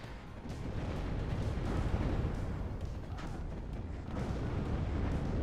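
Artillery fire support in the WARNO video game: a continuous rumbling barrage of low booms and bursts, dense and heavy, rolling on without pause for several seconds.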